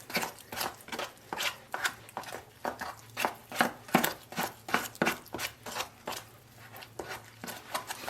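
Tile mortar is stirred and scraped in a bucket for a kitchen backsplash, giving repeated rhythmic gritty strokes roughly twice a second, close and fairly loud, with no talking.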